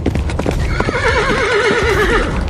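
A horse gallops with rapid clip-clop hoofbeats across the whole stretch, joined midway by a loud, wavering neigh that rises and falls over the hooves, close and forceful with no talk.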